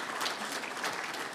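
Applause from a conference audience at an African internet peering and interconnection forum, steady dense clapping filling the whole moment at moderate volume.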